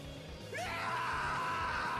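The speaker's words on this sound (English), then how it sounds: "You can hear him screaming." In the video game Assault Suit Leynos Remake, a man's scream rises sharply about halfway through and then holds as a loud, sustained cry over a low game rumble.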